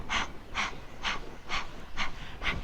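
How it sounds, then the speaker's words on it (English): Rhythmic, forceful panting breaths during a yoga breath-of-fire exercise, like a dog panting, with six sharp exhales spaced about half a second apart, close and steady with no talking. "we're going to start like we're panting like a dog"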